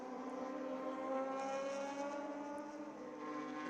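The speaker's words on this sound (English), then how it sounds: "So this is the SR3 RSX, the one with the Suzuki Hayabasa 1300 engine." A Radical SR3 RSX race car with a Suzuki Hayabusa 1300 engine drones steadily at high revs, a sustained buzzing engine note that holds level and slightly distant throughout with no voices.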